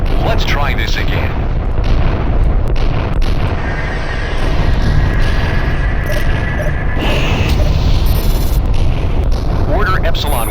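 Ship destruction in the space combat game Freespace 2: a continuous roar of explosive booms and crashing debris fills the span, loud and dense, with radio-style voices talking over it.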